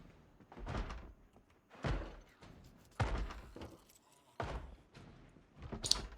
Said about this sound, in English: You can hear the zombie beating on this door.